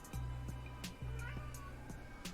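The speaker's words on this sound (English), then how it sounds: "We have a yelling kitty." A yelling cat lets out a string of insistent meows about every half second, close and clear above a faint background.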